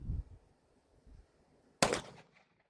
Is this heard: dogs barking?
no